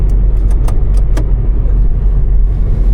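A car cruising along an open road on the way to Nainital, a constant loud low engine and tyre rumble with wind noise, steady throughout, a few faint brief clicks early on.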